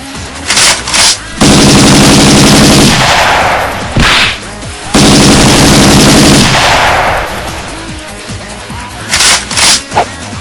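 Loud bursts of rapid machine-gun fire from a Power Rangers video game come in two long volleys, separated and followed by sharper single shots and whip-like cracks.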